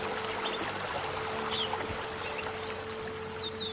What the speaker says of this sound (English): Karcher K7 pressure washer, available from Halfords